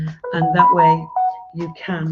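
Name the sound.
mobile phone ringing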